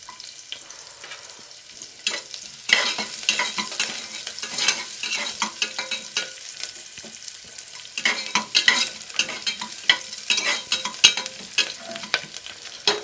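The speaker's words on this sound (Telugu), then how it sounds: "సో లైట్ ఉల్లిగడ్డ వేసేసి కొంచెం కలుపుకొని ఇచ్చేరా" Sliced onions sizzle in hot oil in a pan while being stirred, with a continuous frying hiss broken by repeated scraping stirs, loud and close.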